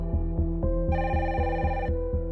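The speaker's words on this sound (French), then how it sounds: "Il est 19h40 lorsque le téléphone sonne au siège de la police judiciaire" A telephone rings at police headquarters with a loud, rapid electric bell trill. A steady low pulsing ring pattern is joined by a brighter, higher tone for about a second.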